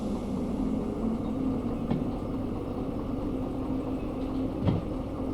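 Train in the Derail Valley simulator easing backward after its brake is released, a steady low rumble and hum of rolling cars with a few faint clanks, no talking.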